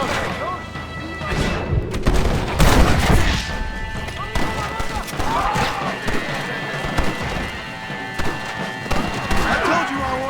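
Gunfire from a Western shootout in the video game Red Dead Redemption, a dense run of loud, sharp bangs and booms clustered early and recurring throughout, mixed with shouting voices and game effects.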